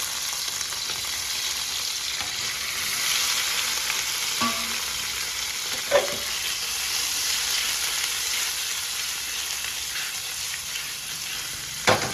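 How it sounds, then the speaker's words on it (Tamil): Paneer cubes sizzle and fry in hot ghee, a steady, close crackling hiss throughout with a few sharper pops and stirring scrapes, no voices. "நெய் விட்டு இந்த பன்னீர் எல்லாத்தையும் அதில் போட்டு ஒட்டு ஃப்ரை பண்ணிக்கலாம்."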